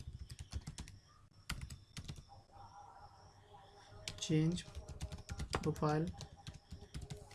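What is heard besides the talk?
typing on a computer keyboard while coding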